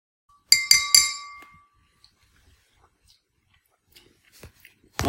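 A spoon clinks against a clear glass while stirring a pink lemonade Cellucor C4 pre-workout powder drink, three bright ringing taps up front, then quiet with a few faint knocks and a last clink.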